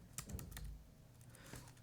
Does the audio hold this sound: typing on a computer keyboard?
yes